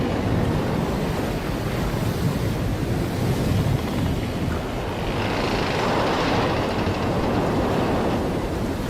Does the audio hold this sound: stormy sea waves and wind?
yes